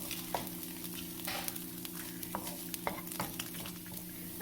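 Dried red chili peppers and ginger fry in oil in a pan, a continuous close sizzle broken by scraping stirs and small crackling pops.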